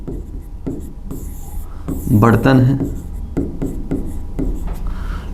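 A pen scratching across a surface while a diagram is drawn, with steady rhythmic strokes and scribbles under someone speaking Hindi, loudest in a dense burst midway.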